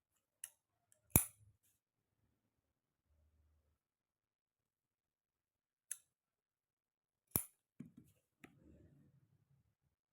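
Scissors snip fabric strips for a trouser bottom design, giving a few sharp, isolated cuts spaced seconds apart in a quiet room, with faint handling rustles afterward.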